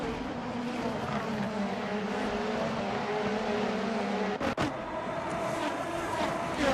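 Race cars from the Assetto Corsa video game battle wheel to wheel at Sebring, a steady loud drone of engines throughout with a brief sharp break near the end, no talking.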